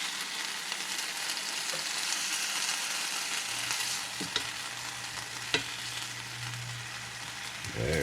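Jerk chicken and shrimp sizzle steadily in a pan, a close hissing fry with occasional utensil clicks and scrapes and a low hum joining partway through.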